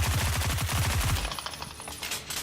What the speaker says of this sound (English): of course, a machine gun